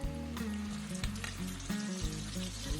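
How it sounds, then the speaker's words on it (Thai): Chu chee curry paste sizzles and crackles in hot oil, with occasional scraping stirs of a utensil in the pan, close and steady. "แล้วก็จะผัดให้พริกแกงหอมก่อนจ้า"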